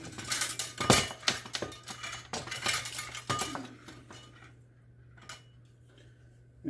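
Metal spoons swapped in a home kitchen while cooking Frito pie casserole, light clinks and taps against pots and cookware in quick irregular bursts, then quieter handling.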